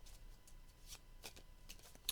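Technology cards for a board game being shuffled by hand, a soft, faint riffling with a few crisper flicks, close by and without talk.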